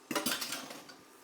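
A metal utensil clinks and scrapes against a pan while eggs are scrambled in butter, giving two sharp taps followed by a softer scraping stir, close and fairly quiet.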